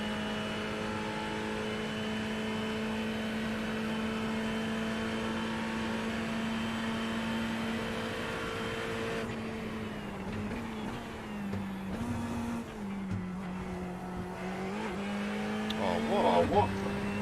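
A Ferrari 488 race car engine drones steadily in the iRacing sim at Le Mans, a sustained mid-pitched hum that shifts gear and pitch partway through, with a voice talking over it.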